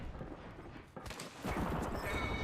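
Gunfire in a battle royale video game, a dense, muffled burst of rapid shots and clattering effects swelling into a louder continuous barrage toward the end.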